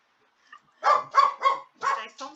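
A dog named Dona Julieta gives five sharp, close barks in a quick, uneven rhythm, with a faint yip just before them in an otherwise quiet room.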